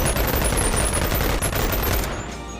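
A dense, continuous rattle of rapid gunfire from an M9 pistol in a video game, loud and close, easing off slightly at the very end.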